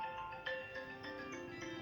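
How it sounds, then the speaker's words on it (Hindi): A mobile phone ringtone chirps in short repeated tonal bursts, moderately faint, interrupting an online class with no talk over it. "ये बीच में किसी का फोन आ गया था"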